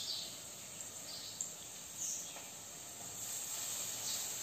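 Curry leaves sizzling in a pan with fried onions, a steady, faint hiss and crackle with small pops running throughout, no voices.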